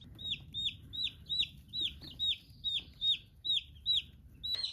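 High-pitched peeping from several chicks, Rhode Island Reds among other varieties, crowded in a brooder box, with repeated sharp chirps in a steady, close, fairly loud rhythm over a low background rumble.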